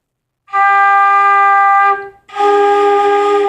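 A flute sounds one steady, clear G note, held for about a second and a half, breaks briefly, then plays it again just as strongly.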